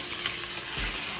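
Onions sizzle and fry steadily in a hot pan while making mutton keema, a dense continuous crackle close up with no voices over it.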